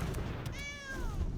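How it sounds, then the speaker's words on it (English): A single short cat meow, a rising-then-falling tonal cry used as the sound effect for a leopard card in a Magic: The Gathering draft, heard clearly over a low background hum. "A little meow."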